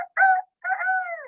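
A singing voice imitates a rooster crowing as part of a children's song, with two crow-like calls: a short one followed by a longer, drawn-out crow that slides downward, close and clear.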